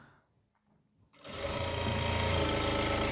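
A sewing machine starts after a near-silent pause and runs in a loud, steady, rapid mechanical whir while stitching an invisible zip into the back of a kurti.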